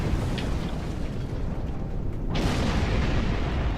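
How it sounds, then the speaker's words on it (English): Torpedo blast with area-of-effect damage in the space combat game Star Trek Online, a loud, dense roaring burst that rumbles continuously, with a sharp bright surge partway through. "this torpedo that we have on board does area of effect damage"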